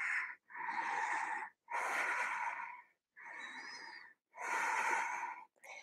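Deep, slow inhales and exhales during a vinyasa yoga flow, five long breaths close to the microphone with short pauses between them, airy and slightly wheezy, heard alone.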